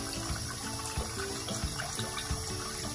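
Tap water runs steadily from a faucet to wet a Clarisonic facial cleansing brush at a bathroom sink, a continuous close splashing hiss with no talking.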